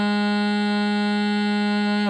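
Bagpipe practice chanter sounding a sustained low G note, a steady reedy buzzing tone held alone and evenly for about two seconds.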